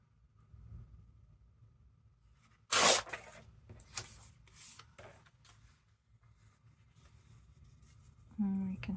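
Paper torn along a tear ruler while crafting tags from old envelopes, a sharp tearing burst followed by several shorter rips and rustles, close up, with a low background hum and a voice coming in at the end.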